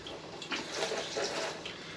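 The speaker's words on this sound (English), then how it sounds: "I should wash this knife up before I use it again" Water runs from a kitchen tap over a knife that has just cut open a raw duck burger packet, a soft steady stream with faint splashes and clinks, fairly quiet and unvoiced.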